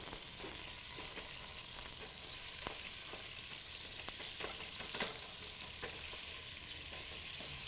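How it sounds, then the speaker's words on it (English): Ground hamburger meat sizzles as it browns in a hot pan, a dense, steady crackle with sharp pops and occasional stirring scrapes, close and continuous. "Now what we're going to do is just quickly brown our hamburger meat off"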